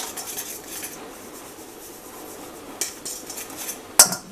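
Salted food tossed and mixed in a bowl, giving light scraping and clinking, with a sharp knock near the end.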